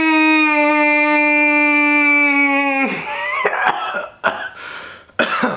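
A person clears their throat several times in short, sharp, raspy bursts up close, right after a long sustained tone fades out.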